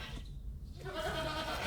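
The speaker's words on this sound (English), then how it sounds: "Oh, what's that goat?" Goat bleating, a loud wavering call rising out of a dense, busy background, heard close and alone without talk.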